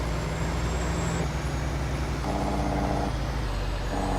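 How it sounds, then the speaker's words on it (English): Truck Jake brake in a farming video game: a steady, loud engine drone with stepped changes in pitch, continuous and alone, with no voices. "We also love the sound of this Jake brake on this"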